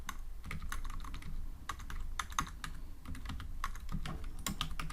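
Rapid typing on a computer keyboard, with steady clustered keystrokes clicking close up and continuously for the whole stretch, and no talking over it.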